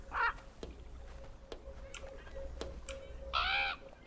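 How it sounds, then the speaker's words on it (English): A crow in the game Draugen taps at a window, sharp isolated clicks spaced irregularly, with two harsh nearby caws, one at the start and one near the end, over quiet ambience. "There's a crow pecking at the window?"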